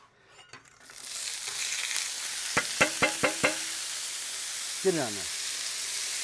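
Peppers, onions and celery, the Holy Trinity base for a seafood gumbo, hit a hot pan and sizzle loudly and steadily, with a few sharp clacks of stirring and a brief spoken remark near the start.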